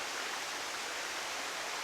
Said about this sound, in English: Let's see if I can push against the waterfall.